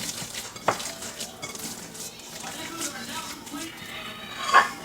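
Veggie burger ingredients stirred together in a bowl, with a steady scraping of a utensil and a few sharp clinks against the dish, while a person talks over it.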